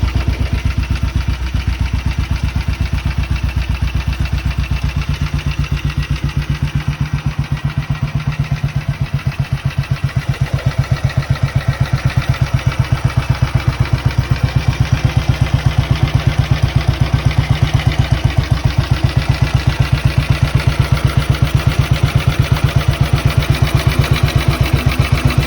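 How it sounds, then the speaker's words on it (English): A 1951 Matchless G80S single-cylinder motorcycle runs steadily close by with a strong, even thumping beat that quickens a little partway through, then holds a brisk idle to the end with no talk. "Here's another short video of my bike, but this time without its speedo fitted."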